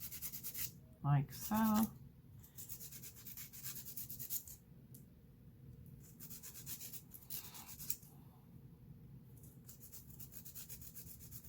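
A hand rubbing back and forth across dip powder nails on nail tips, a soft continuous brushing friction that repeats in strokes, close up, with a brief spoken remark near the start.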